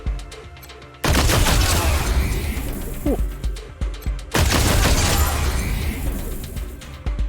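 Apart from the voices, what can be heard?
energy weapon firing in the video game Wasteland 3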